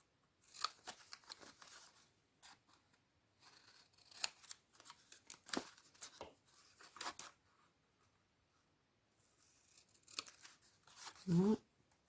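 Paper is cut with scissors for an advent calendar craft, giving quiet, close, intermittent snips and crisp slicing strokes separated by pauses, ending in a louder cluster of cuts.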